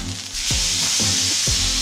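A pork chop sizzles steadily on a hot pan after being flipped, with a broad continuous hiss and a few soft low thumps of it being moved, close and loud throughout.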